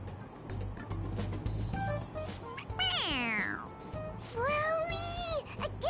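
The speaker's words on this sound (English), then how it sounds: "It meows when you press on its head." A toy cat in the Persona 5 Royal video game lets out cartoonish meows when its head is pressed, two drawn-out rising-and-falling cries close up, with a faint background hum and no talking.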